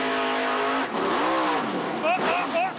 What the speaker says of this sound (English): He stabbed the throttle again and spun the right rear and launched that car to the left